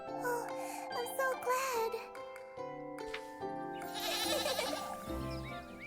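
A goat bleats in several wavering calls over a light musical backdrop with a faint jingle, moderately loud and close, without clear speech.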